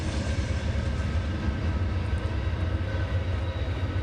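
Loud, continuous rumble of a train rolling past at close range, a dense low roar that holds steady throughout with no voices over it.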